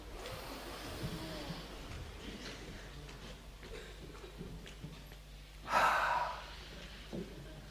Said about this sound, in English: Could everybody take a big deep breath and hold it?